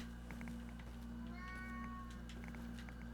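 A pet cat meows several times in short, rising calls over a steady electrical hum, heard close by and fairly clear.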